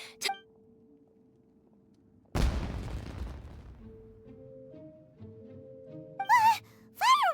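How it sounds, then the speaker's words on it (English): Fireworks in the Genshin Impact video game: a sudden loud boom bursts out and crackles away over a few seconds, then two shrill rising whistles shoot up near the end over a soft game soundtrack. "Was that an explosion? It sounded like fireworks."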